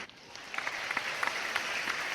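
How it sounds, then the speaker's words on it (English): Round of applause on a podcast, a steady dense patter of clapping that swells slightly after the start and holds at moderate volume. "Round of applause."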